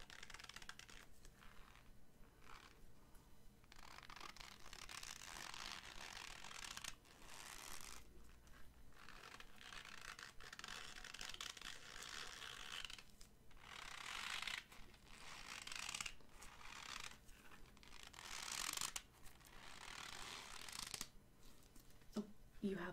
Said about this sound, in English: It's actually a balloon filled with a little bit of cornstarch.